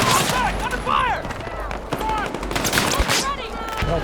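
Rapid bursts of gunfire crackle through a Battlefield 6 firefight, with close automatic fire layered over distant shots and booms, sustained and loud throughout as voices call out over the battle.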